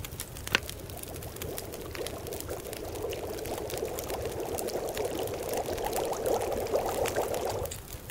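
Water pours steadily in The Long Dark, a continuous close trickling stream that runs evenly for several seconds before cutting off abruptly near the end, with no speech.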